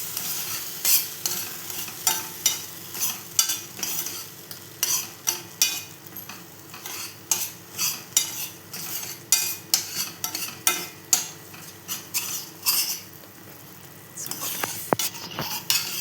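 Gravy cooking in a pan while being stirred, a soft steady sizzle broken by rhythmic scraping strokes of a spoon, about one every second, alone and close.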